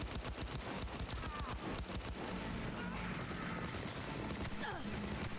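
Video game gunfire crackles in rapid bursts, dense loud shots in quick succession through the first half before thinning, with faint voices mixed in.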